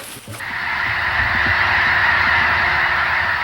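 A flock of geese honking loudly and continuously in a dense, steady chorus of overlapping calls, close and unbroken throughout.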